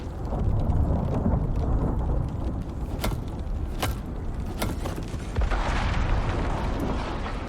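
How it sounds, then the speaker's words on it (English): In the survival game Icarus, a lightning storm sends heavy rumbling thunder through a continuous roar, with several sharp cracks standing out; no one speaks. "That lightning concerns me only because our mounts are still outside."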